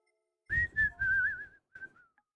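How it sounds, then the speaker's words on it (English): A person whistles straight into a microphone in a few short, loud, close tonal bursts with slight pitch slides, then a softer trailing phrase. "Shouldn't whistle directly into the mic, should I?"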